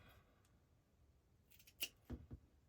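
Scissors snipping through felt while making a felt sunflower centre, a few quiet soft rustles and then several sharp close snips near the end.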